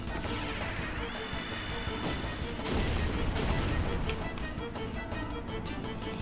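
A Magma Bomb spell in Chrono Cross lands with a loud crashing burst and rumbling explosive bangs, followed by a sustained roiling wash of fiery noise and a high ringing tone.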